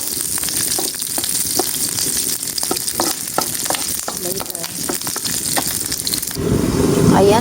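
Vegetables fry in a pan with a steady crackling sizzle, broken by repeated scraping and clattering strokes as they are stirred; the hiss swells louder and fuller near the end.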